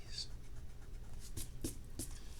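An eraser rubs out a drawing of a gear in several short, scratchy strokes, each a soft brushing burst against a low background hum.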